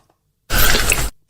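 A wet, squelchy mouth-smacking noise from a played recording, gooey like a fish flapping out of water, bursts out loud for about half a second between stretches of near silence.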